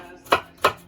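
Knife chopping half a red onion finely on a board, two sharp distinct cuts evenly spaced, close and clear with no talk.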